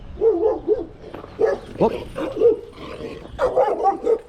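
A dog barks and yips in short bursts at close range on a path in Pogradec, Albania, with a voice mixed in among the barks.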